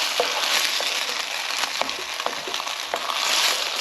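Black pepper sauce hitting a hot pan for chicken and mushroom, giving a steady, loud broadband sizzle with scattered crackles and pops throughout, no voices.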